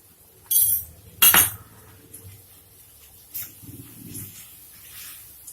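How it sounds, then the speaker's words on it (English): Vegetable bhaji being stirred together with fresh cream in a pan, two sharp metallic clinks of a spoon against the pan followed by quieter scraping and shuffling. "Mix everything together."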